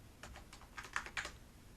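Someone types a short word on a computer keyboard, a quick run of about eight faint key clicks in an irregular rhythm against a quiet background.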